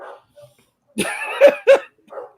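A dog gives a few short, close barks and yips in quick succession, with a brief soft whimper at the end, loud against near silence.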